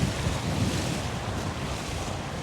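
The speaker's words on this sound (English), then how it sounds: "especially with how fast the rivers are flowing today" Rushing river water pours steadily beneath a small footbridge on a bothy walk, a close, dense broadband roar with wind buffeting the microphone and no voices.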